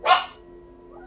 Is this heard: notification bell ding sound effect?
no